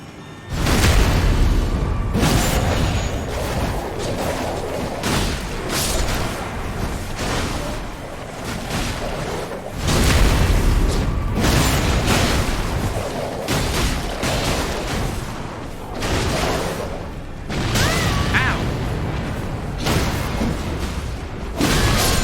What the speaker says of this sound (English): those things explode